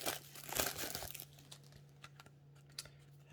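Plastic wrap crinkles and tears as packaging is peeled back from a board game box, a close, quiet burst of crackling that fades into scattered light rustles and ticks.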